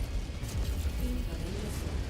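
LRM missile barrages exploding around a mech in MechWarrior 5: Mercenaries, a dense low rumbling of overlapping blasts and thuds rolling continuously for a couple of seconds with no speech.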